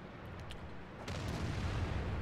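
A T-34 tank fires a high explosive shell in a tank video game, a single dull boom arriving halfway through, distant and muffled over a quiet low background.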